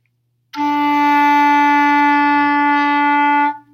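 A single sustained low E note on a clarinet, steady and clear with a rich harmonic tone, held for about three seconds before stopping.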